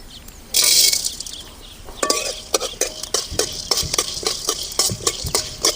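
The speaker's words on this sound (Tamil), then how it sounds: "நல்லா மிளகு பொரியணும்." Peppercorns fry in groundnut oil in a pan, heard as a quick burst of loud sizzling followed by a run of scraping, tapping stirring strokes with a faint sizzle beneath.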